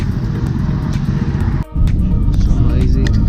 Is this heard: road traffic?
yes